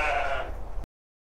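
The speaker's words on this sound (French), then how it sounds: "Ça, c'est un groupe de brebis à l'accouplement" Sheep bleating at close range on a farm where ewes are grouped for mating with Suffolk rams, a loud, sustained chorus of overlapping bleats lasting under a second before cutting off.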